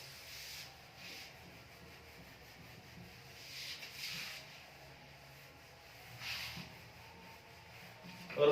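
A duster rubs writing off a classroom board in several soft, scratchy strokes, faint and spread across the moment with brief pauses between passes.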